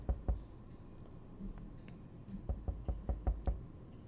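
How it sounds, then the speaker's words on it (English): A series of hollow knocks on a safe in the video game 60 Seconds: a pair early, then a quick, evenly spaced run of about six raps near the end, moderately loud over low background noise. "So many knocks."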